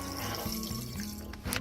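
Water pours steadily into a pot with a continuous, close rushing and gurgling whose pitch shifts slightly as the level rises.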